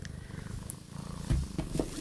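A pet cat named Daisy purrs in a low steady rumble close to the phone it rubs against, with soft bumps and rustles as its body brushes the device.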